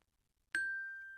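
A single bar of a 12-bar carillon is struck once on the note G, a clean metallic ding that rings out clearly and sustains after a moment of silence.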